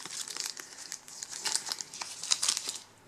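Plastic packaging on an insulin pump reservoir for a MiniMed 630G being peeled open by hand, giving a close, soft, continuous crinkling and tearing rustle with no talking.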